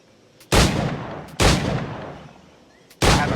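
Three loud, sharp firearm blasts in Assassin's Creed 4 Black Flag, each with a booming, slowly fading tail, spaced about a second apart and heard alone without talk.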